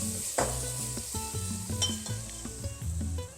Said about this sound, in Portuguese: a gente está fritando o nosso alho poró e a nossa cebola